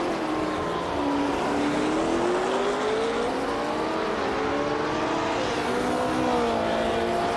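Vintage Porsche race cars in a racing game, engines droning loud and continuous with a gradually climbing pitch as they accelerate through tight corners, no voices over the engine noise.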